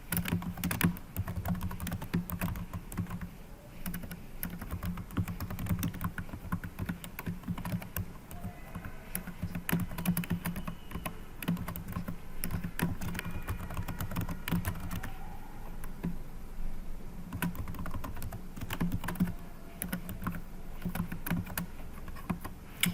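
Steady typing of sentences on a computer keyboard fills the stretch with continuous, close key clatter and a rapid, uneven rhythm of taps, with no voices over it.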